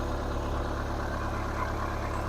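A warm car engine idles steadily at close range, a low, even rumble with constant vibration and no talk over it.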